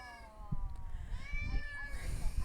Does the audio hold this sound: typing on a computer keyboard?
no